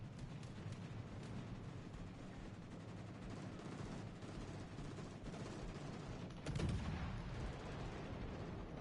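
Naval gunfire in World of Warships: Legends rumbles as a low, steady barrage under dense noise, with a heavier boom standing out near the end, moderately loud and continuous.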